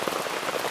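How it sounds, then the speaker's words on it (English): Heavy rain falls in a steady, dense hiss of patter on surfaces, even in loudness, with no voices. "this is like proper rain, ladies and gents"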